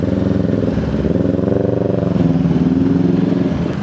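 A Vespa scooter rides through traffic, its small engine humming and revving steadily with a pulsing, throbbing rhythm, close and loud, no talk over it.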